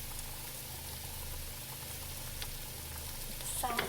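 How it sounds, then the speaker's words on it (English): Shrimp browning in a hot pan with a little seasoning, a steady low sizzle and fry throughout, with a brief clink of a utensil near the end. "I will put the shrimp in there and brown it"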